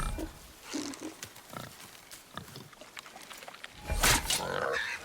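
A wild boar in God of War grunts and snorts in a series of short, rough bursts of varying loudness, building to a louder squeal-like outburst near the end, with no talk over it.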